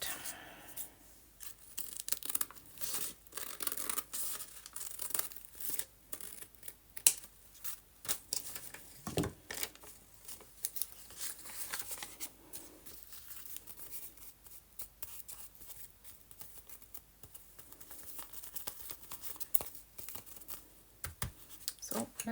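Scissors snipping paper while decorating a white and teal journal, soft irregular cuts, rustles and crinkles close by and quiet, with no talking.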